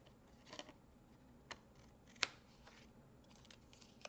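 Scissors trim paper strips on the back of a handmade card, giving a quiet, close series of sharp snips and small paper rustles, alone without talk.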